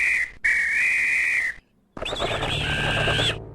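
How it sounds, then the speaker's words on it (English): A vulture mating whistle from Return to Zork sounds in two shrill sustained blasts, then a brief gap and a warbling multi-tone whistle, loud and close with no talk. "apparently it's a vulture mating whistle?"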